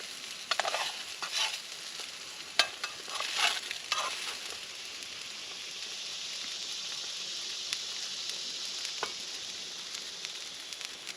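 Eggs fry in a cast iron skillet outdoors at a bushcraft lean-to camp in Alabama, giving a steady close sizzle and hiss with occasional crackles and pops, strongest early on and then settling into an even fizz.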